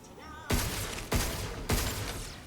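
Three loud, sharp gunshots from a weapon in the sci-fi video game Pragmata, fired at a steady pace about half a second apart, each with a short ringing decay.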